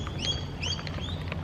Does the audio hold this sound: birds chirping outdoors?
yes